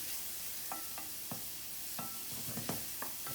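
Leeks sizzling in a pan as they soften for a quiche filling, a steady low fry hiss broken by a handful of sharp clinks and scrapes of a utensil stirring against the pan.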